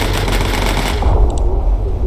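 In the video game Bomber Crew, a US Army bomber's gunner fires rapid machine-gun bursts, a dense, loud rattling crackle over a low engine drone, close and continuous for a couple of seconds.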